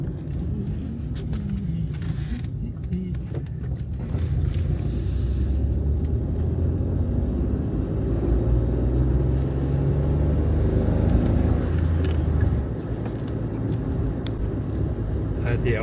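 Car driving, heard from inside as a steady low road rumble that swells slightly midway, with a voice talking over it.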